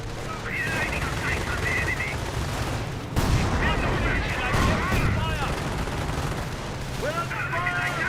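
Machine guns and other gunfire rattle in a Company of Heroes 1 battle: dense, continuous bursts of shots with heavier thuds around the middle, plus high whistling tones drifting over the din.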